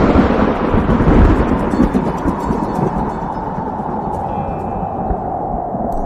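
Thunder from an approaching storm, a deep loud rumble swelling early then rolling on steadily and fading slightly, heard alone.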